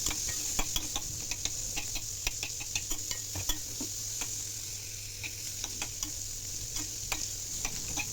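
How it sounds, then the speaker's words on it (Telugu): Chopped green chillies frying in a pan for onion rice: a constant oily sizzle broken by frequent sharp clicks of a spatula stirring against the metal pan, close and fairly loud, with no voices. "ఇప్పుడు కట్ చేసి పెట్టుకున్న పచ్చిమిర్చి ముక్కలు వేసుకున్నాను."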